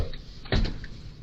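A cop opens the front door of a family's home, a single brief thump and latch clatter near the middle, close and fairly loud, with faint background noise around it.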